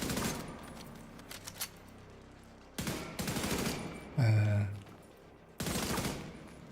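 Bursts of video game gunfire, including rapid machine-gun style volleys, in several loud spurts separated by short quieter gaps, with occasional faint talk.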